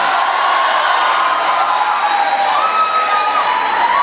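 A packed audience at a Mushaira poetry recital at a Karachi university shouting and cheering, a loud, steady roar of many voices with whoops rising throughout.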